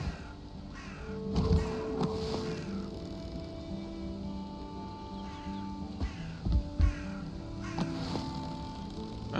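Crows caw now and then in the Valheim game world, harsh calls scattered over a steady ambient bed of wind and tones, fairly faint and without speech.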